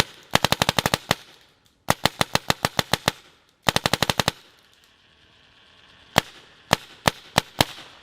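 An Angel LED SE paintball marker from 1999 fires sharp shots in rapid bursts, then several slower single shots, loud and close with no talking.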